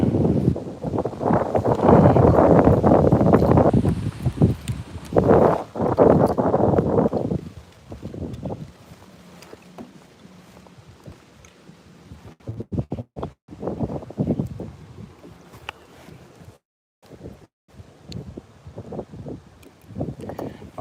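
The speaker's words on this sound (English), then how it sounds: "Can you guys hear all that wind noise? The wind is atrocious out here right now." Strong gusts buffet the microphone out on the water while bass fishing, loud rumbling wind noise surging for several seconds and then easing into lighter, intermittent gusts and rustles.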